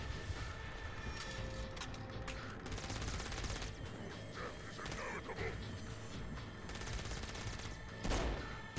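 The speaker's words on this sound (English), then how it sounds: "Is that a Gatling gun? Oh, it's a grenade launcher." Rapid bursts of weapon fire from a grenade launcher in a video game, dense and continuous over a rumbling mechanical background, with a voice talking over it.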